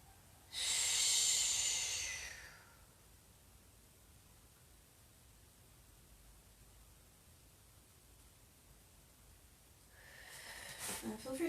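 Slow, deep breathing in a yoga session during a gentle hip stretch: a long, airy exhale near the start, a quiet pause, then another breath building toward the end, close and soft.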